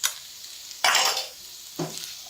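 Potatoes stirred in a pan for a samosa filling with chicken powder and chopped green chillies, giving two separate bursts of scraping and sizzling, close and fairly loud, with quiet gaps between and no talk.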